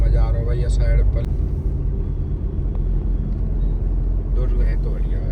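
A car climbs the road up to Chittorgarh Fort, its engine a loud, constant rumble close by while someone talks over it.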